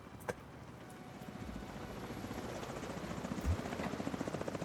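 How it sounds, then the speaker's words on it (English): A helicopter comes in over a multiplayer game, its rotor making a quiet, constant low chop that builds slightly over several seconds, with no voices. "Well, chopper's coming in."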